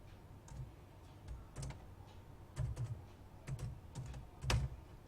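Fingers tapping out code on a computer keyboard, producing scattered clusters of soft, close keystroke clicks at an uneven pace, with a few heavier taps standing out, and no talking.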